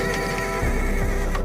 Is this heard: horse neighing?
yes